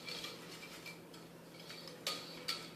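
A utensil scrapes and clinks against a pot as chopped chocolate and unsalted butter are stirred to melt, with light repeated scraping over a soft hiss and two sharper knocks near the end.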